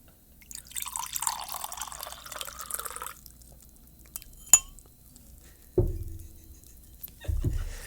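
Wine poured into a glass, a soft liquid trickle and pour lasting a few seconds at close range, followed later by a sharp glassy clink and a couple of low thuds as glasses are set down.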